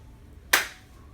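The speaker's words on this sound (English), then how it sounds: "A clap of a beaver's tail" A single sharp slap of a beaver's tail striking water, one brief loud broadband crack that decays quickly over a quiet, faintly noisy outdoor background.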